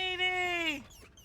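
A dog in the video game Hell Is Us gives one high, drawn-out whine that falls away at the end, close and clear, followed by a short quiet breath.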